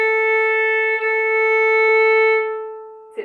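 A single sustained bowed violin open A string note rings steadily and clearly for a couple of seconds, then fades out, ending with a faint bump.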